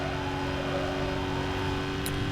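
Vauxhall Monaro VXR engine in Need for Speed: Most Wanted, a steady loud droning roar held at constant pitch throughout, with a couple of faint high clicks near the end and no talking.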